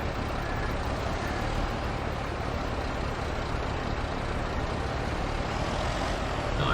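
A telehandler in Farming Simulator 22 runs steadily while extending its boom, giving a loud, continuous engine drone with a broad mechanical hiss that holds level throughout, with no talk.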